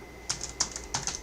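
Keys on a computer keyboard tapped in a quick burst while a web address is entered, a handful of crisp clicks in three short clusters, close and clear with no talking.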